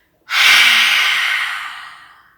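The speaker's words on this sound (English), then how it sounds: "As you exhale, open your mouth as wide as you can, stick out your tongue as far as you can," Strong open-mouthed exhale with the tongue stuck out during a yoga breathing exercise, a single loud breathy rush that starts abruptly and trails off over about two seconds, with no talking.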